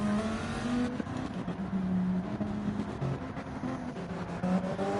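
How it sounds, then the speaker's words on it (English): LMP1 race cars start at Daytona in a racing video game, with a steady roar of several engines accelerating together, their pitch shifting as the field pulls away. "And the LMP1 cars are underway here at Daytona."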